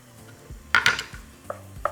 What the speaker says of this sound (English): just continue mixing it and allow the meat to brown